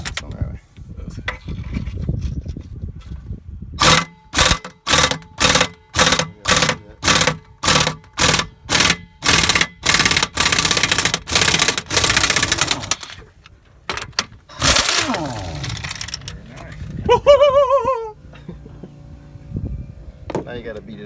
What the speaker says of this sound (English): Alright, I'm gonna grab that air gun.